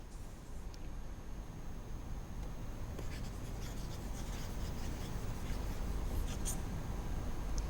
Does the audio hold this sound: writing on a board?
yes